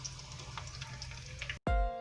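Egg fingers frying in hot oil give a steady sizzle for about a second and a half, broken at the end by a short gap and then a loud, harsh burst of close sound.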